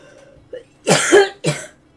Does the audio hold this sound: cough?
yes